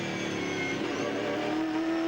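A 2001 V8 Supercar at full speed on the back straight, its engine a steady, loud, high-pitched roar that holds without a break.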